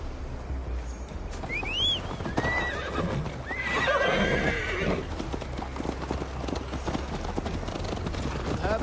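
Hoofbeats clip-clop steadily throughout a Viking-era video game ride, with a horse whinnying clearly in the middle over ambient wind and music-like background.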